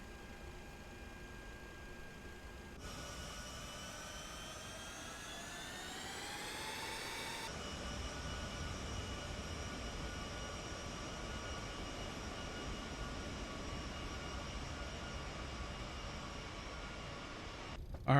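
Steady whining roar of C-17 Globemaster III jet engines while taxiing in Microsoft Flight Simulator 2024, with a tone that rises and then settles into a continuous even drone.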